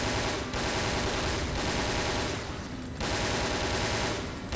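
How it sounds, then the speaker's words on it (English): Sustained automatic submachine gun fire from Resident Evil: Dead Aim, loud rapid bursts broken by a few short gaps, close and continuous with no voices. "The assault rifle, the submachine gun."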